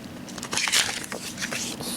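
Plastic packaging on an anime DVD being torn and wrestled open, a run of close crinkling, crunching rips with sharp crackly bursts, loudest in the middle, no talk.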